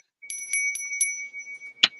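A small bell rings in a quick series of four bright, sustained dings, each ringing on, followed by a sharper single strike near the end, close and clear against silence.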